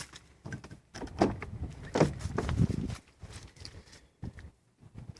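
A 1993 Lexus SC400 door opening, with clicks and knocks from the latch and handle followed by a couple of soft thuds, close by and fairly quiet, with no talk over it.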